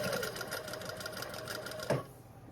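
Sewing machine stitching down a waistband, a steady fast whirring run close up that stops abruptly near the end with a small clunk, leaving quiet.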